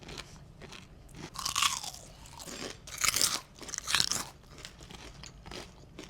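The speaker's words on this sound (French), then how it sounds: "Ça croustille, hein." Close, crisp crunching as someone bites and chews crunchy homemade nuggets, several loud crackling bites spaced a second or so apart with quieter chewing in between.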